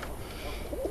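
A young squab pigeon, a shield-marked Kazan Old German Owl cross, gives a brief soft coo near the end, close but faint against steady background noise.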